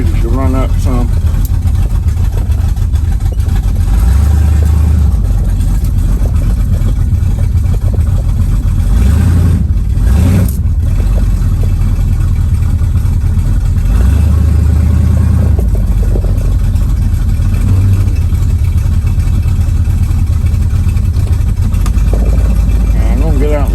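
A 1969 Mustang that sat for 15 years, its engine rumbling loud and steady while driving, with low revving swells and a brief break midway. The tire sliding under braking cannot be made out.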